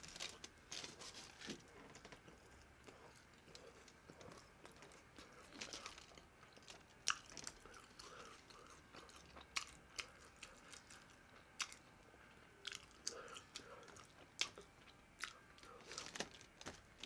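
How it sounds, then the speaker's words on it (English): A Chipotle burrito with guacamole is eaten close to the mic, with repeated wet chewing and crunchy bites and occasional crinkling of wrapper foil. The sounds are irregular and fairly faint, with no voices. "So I'll eat the one with the guac first."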